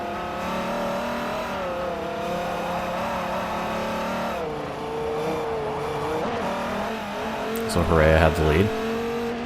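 A Dodge race car in Forza Motorsport 4 holds a steady high-pitched engine and gear whine through a run at Maple Valley, with a brief tire squeal near the end and someone talking over it.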